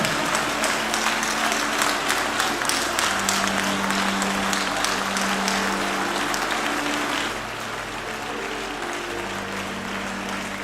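A congregation at a mass prayer gathering bursts into sustained dense applause, loud and continuous for several seconds before easing slightly, with indistinct voices mixed into the clapping.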